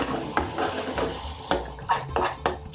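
Meat goes into a pan of thickening vindaloo curry, with a series of sharp clattering scrapes and knocks of a utensil against the pan at irregular intervals, loud and close.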